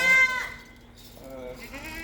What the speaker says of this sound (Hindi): ये हमारी बड़ी एक अच्छी बकरी है